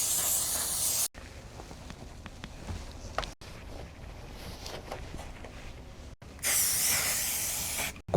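Spray adhesive hissing from an aerosol can onto Perfect Barrier insulation panels inside a kei car being insulated for camping, two loud sustained bursts at the start and end with quieter handling noises between.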